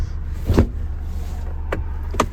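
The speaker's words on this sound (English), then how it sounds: "And park folding mirrors as well." Power-folding door mirrors on a Ford Transit Custom 2.0 EcoBlue Limited panel van whir in two or three brief motor bursts over a low steady hum, close and fairly quiet.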